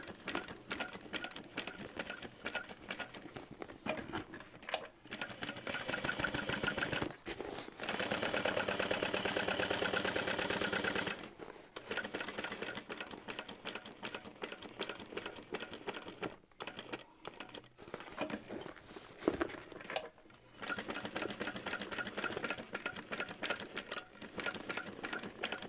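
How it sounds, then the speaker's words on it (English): A sewing machine stitches a second row on a small handbag, running in long steady whirring bursts broken by brief pauses, close and fairly loud, with no speech. "I'm going to go ahead and add that second row of stitching"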